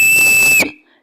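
A single sustained, steady whistled tone from a person, loud and clear, held for over half a second before cutting off abruptly, leaving silence.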